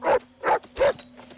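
Vincent, the dog from the TV series Lost, barks in three loud, evenly spaced bursts, with a fainter fourth bark starting right at the end.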